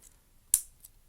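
A single sharp plastic click snaps as a replacement third-party UMD case part seats into place, followed by a much fainter tick a moment later, in an otherwise quiet room.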